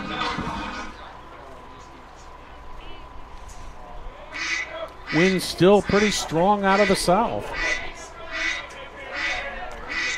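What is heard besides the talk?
ducks flying over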